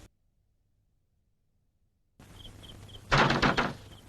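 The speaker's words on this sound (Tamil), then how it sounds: "யாரோ கதவை தட்டுறாங்க, போய் திறங்க." Knocking on a door in a home, a short burst of several close, fairly loud raps after a quiet stretch and low background hum.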